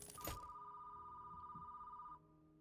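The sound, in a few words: telephone ringing in the video game Hellmart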